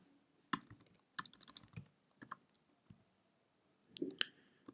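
Computer keyboard keys clatter as code is typed for a Kotlin Multiplatform Android Jetpack Compose app, in short irregular bursts of crisp clicks separated by pauses, close and fairly quiet, with no voice.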